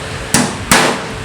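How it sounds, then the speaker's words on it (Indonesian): Two sharp hammer blows on a nail, about a third of a second apart, punch-marking drilling points on a metal ATS AMF panel door, each a bright metallic crack with a short ringing tail. "Mula-mula kita tandai dulu dengan menggunakan paku dan palu"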